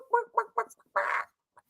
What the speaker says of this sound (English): Is that the sound of a chicken?